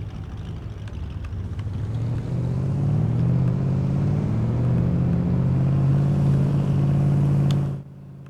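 Car driving in the video game DayZ, a loud droning engine that climbs in pitch as it accelerates, then holds a steady rumble before cutting off abruptly near the end, with no talking.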